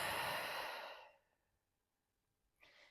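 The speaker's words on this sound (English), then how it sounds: "One more deep breath." A long, deep exhale during a beginner Pilates stretch, close and soft, fading out into quiet with a faint breath starting again near the end.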